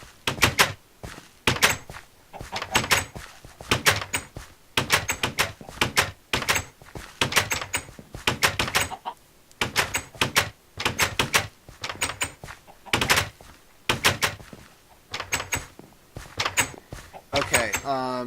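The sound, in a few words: doors slamming repeatedly in a video game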